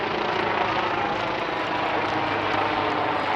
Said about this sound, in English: The umpire's just got a helicopter going on above.